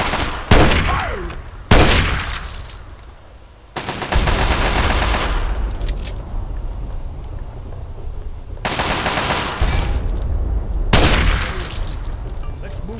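Loud bursts of automatic gunfire and heavy shots from the Fallout 3 Operation Anchorage battle against communist troops, with repeated sharp blasts and sustained rattling volleys that ring out close, with a few short pauses between bursts.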